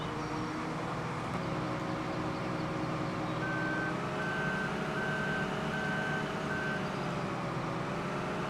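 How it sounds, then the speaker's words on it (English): A combine harvester in Farming Simulator 15 idles with a steady, droning engine hum throughout, while a regular reversing alarm beeps five times over it, clear and moderately close. "Let's get our harvester going"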